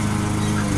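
A lawn mower engine drones steadily and loudly outdoors, a continuous, even rumble with no voices.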